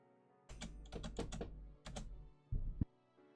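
Rapid bursts of keyboard typing from the visual novel Steins;Gate: Linear Bounded Phenogram, clattering in uneven clusters of keystrokes with brief pauses and a heavier final thunk, close and fairly loud over a quiet background.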